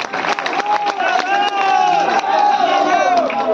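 A dense crowd of supporters at a political rally in the village of Khuiyan Malkana, shouting and cheering loudly together in a continuous, excited roar with rising chant-like cries.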